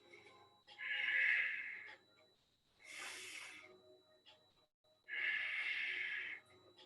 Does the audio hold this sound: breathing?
yes